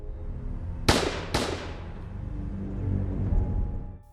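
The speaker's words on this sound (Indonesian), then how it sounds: "mengeluarkan pistolnya dan dengan brutal menembak gadis itu sebelum pergi meninggalkan lokasi" Two sharp pistol shots crack close together in a film scene, each leaving a brief ringing tail before a low, quiet background.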